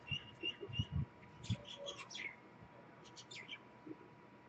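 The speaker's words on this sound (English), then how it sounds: "It's a cool bird song." Bright chirping bird song in a series of quick, whistled phrases, fairly faint and a little distant, with some low knocks and handling noises underneath.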